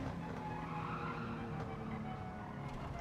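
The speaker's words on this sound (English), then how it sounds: "Yeah, it's spinning out" Car spinning out in Gran Turismo 7 during a daily online race, a steady loud tire skid and squeal over continuous engine roar throughout.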